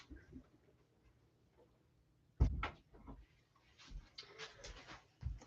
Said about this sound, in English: So I'm actually going to close the door